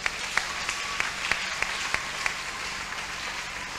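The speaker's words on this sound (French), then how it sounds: "Est-ce qu'on peut acclamer le Seigneur pour des mamans?" A church congregation applauds together for mothers: dense, steady clapping from many hands with a few sharper individual claps standing out, filling the room at moderate volume with no talking over it.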